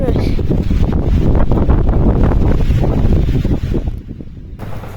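Strong, buffeting wind roars across the microphone on a steep mountain trail on Mount Merbabu, loud and gusty almost throughout before easing briefly near the end, with a voice faintly under it.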